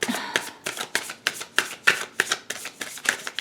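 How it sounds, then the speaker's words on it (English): Tarot cards riffled and shuffled in a quick, rhythmic series of crisp, close flutters and snaps, each burst repeating every few tenths of a second with no talking. "I'm going to pull one clarifier card right off the bat."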